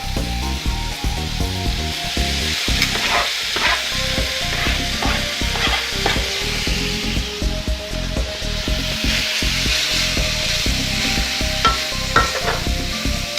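Vegetables sizzle loudly in a hot pan while a utensil stirs and scrapes them in steady, repeated strokes, with no talking.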